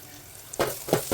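Spices sizzle and fry in a pan for a sprouts curry, a steady low crackle that breaks into louder bursts of sizzling as ingredients are stirred.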